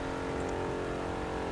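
A Chevrolet Corvette C3 racing at around 250 mph in The Crew 2, its engine holding a steady, loud, droning note heard from the interior with no talk over it.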